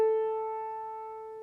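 A single sustained A note on a keyboard, struck once and left to ring with a clean tone that slowly fades, heard alone and close.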